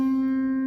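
A guitar sounds a single steady C note, a clear sustained tone with bright overtones, alone and moderately loud.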